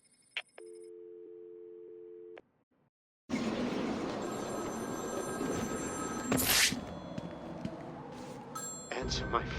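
A telephone in the Batman: Arkham City Remastered game rings as a steady electronic tone for about two seconds, then goes quiet before loud, dense game ambience takes over.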